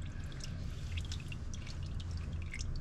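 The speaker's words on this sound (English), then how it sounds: "So now we're just gonna get out all the fluids or the oil from the oil filter" Hot motor oil from the oil filter of a 2011–2018 Ford Focus drains in a steady, faint trickle, with soft drips landing over a low background rumble.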